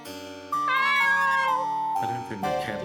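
A cat gives two or three drawn-out meows in a row, loud and close, rising and falling in pitch with no talking over them.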